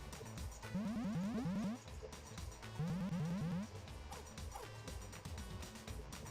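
A dog in a pet video game gives two bursts of quick, high yapping barks, each a rapid run of several yips, over busy game sounds and background music.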